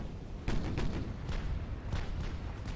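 Battleship gunfire in the naval combat game Ultimate Admiral: Dreadnoughts, with repeated heavy booming salvos and dense rolling blasts layered over a steady roar of battle.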